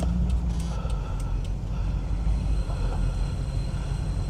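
Low-bodied automatic car pulling away slowly, a steady engine hum and road rumble throughout, close and fairly loud, with a few light clicks early on.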